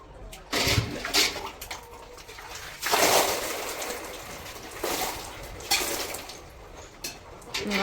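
Water splashes in irregular bursts while bullock-cart racing bulls are washed for a Mahashivratri milk offering, with louder surges separated by quieter dripping and trickling outdoors.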